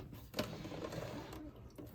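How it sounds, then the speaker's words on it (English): A sewing machine runs a straight stitch in a steady, continuous mechanical whir with a faint rapid chatter, close and fairly quiet throughout. "I'm just going to stitch straight down here with a straight stitch."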